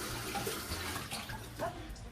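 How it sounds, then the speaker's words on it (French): Tap water runs steadily at close range while kefir grains are rinsed, a continuous broadband splashing and hiss with slight shifts in flow and no voices. "Donc là moi je vais le faire avec de l'eau du robinet"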